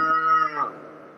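A voice imitates a cow, a sustained harmonic moo that trails off into a softer breathy tail, close and alone.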